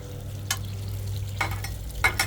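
Cooked noodles sizzle on a Blackstone griddle with a steady low hiss, broken by a few sharp scraping stirs of a spatula on the flat steel surface.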